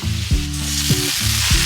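Spices fry in a pan for a spinach dish, with a steady sizzle and rhythmic scraping strokes about every half second as they are stirred.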